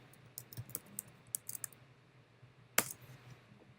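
Quiet, close typing on a computer keyboard, with a quick run of light key clicks followed by a single sharper tap after a short pause.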